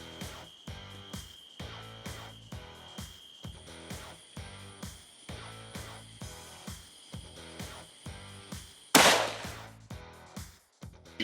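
A single sharp, loud rifle shot fired at a wild hog on an evening hunt at Gum Log Plantation, cracking out near the end over a steady, regularly pulsing background.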